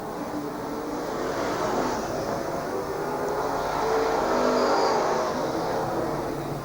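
Race cars, including a Pontiac, circling a speedway track: a continuous roaring engine drone rises and falls slightly as the cars pass into a turn, fairly loud and steady, with no talk.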